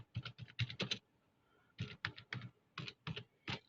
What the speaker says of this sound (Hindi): मैंने ये टाइप किया